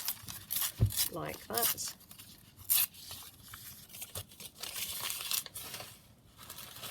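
A paper image torn from a vintage encyclopedia for a scrapbook layout, with brief crinkling and ripping rustles in close, uneven bursts, interrupted by a short remark from a woman.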